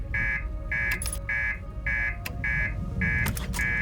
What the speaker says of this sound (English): Dang, that's the first time I saw the alarm go off.